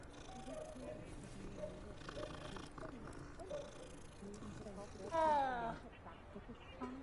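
A cat purring in Hogwarts Legacy, a soft low rumble running under game music and chatter, with a brief louder chirpy meow-like burst near the end.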